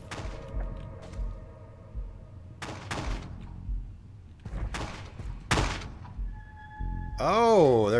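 Gunfire from armed enemies in the video game Zombie Spirits: several sharp, loud shots in separate bursts spread across the stretch, with a wavering electronic tone near the end.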